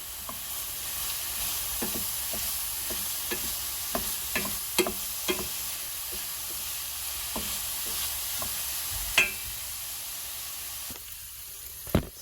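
Chopped garlic sizzling in a frying pan while making a pork tortilla, a steady close crackle and hiss broken by sharp clicks and scrapes of stirring, with no talking.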